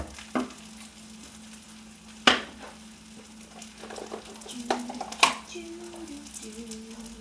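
Olive oil warming in a frying pan on a home stove, with a soft steady sizzle and a few sharp utensil clatters and knocks spaced through it.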